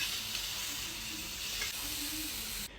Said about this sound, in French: cuire un steak haché dans une poêle en inox et tout ça sans aucune matière grasse